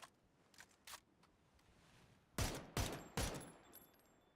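M249 machine gun fire in a competitive online shooter match: a few faint distant shots, then three loud, sharp close bursts in quick succession.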